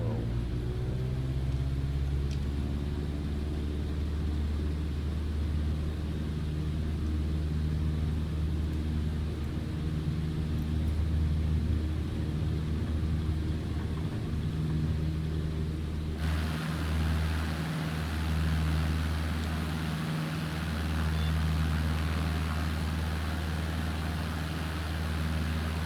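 Cessna in MS Flight Simulator on its departure roll, the engine building from idle into a loud, sustained propeller drone that holds steady for the whole run.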